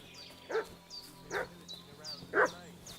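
A dog barks in a medieval village in Kingdom Come: Deliverance II, three loud, evenly spaced barks at moderate distance over a low ambient hum, with no talking.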